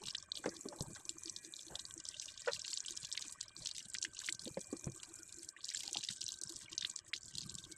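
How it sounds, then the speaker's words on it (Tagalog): Tap water runs steadily as hands are washed under it at a kitchen sink before cooking beef stew, a continuous close splashing stream with scattered drips and no talking. "hugas muna ako ng aking kamay"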